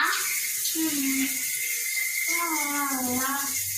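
A tap runs continuously as water rinses hands, a steady bright hiss under a child's and others' voices talking.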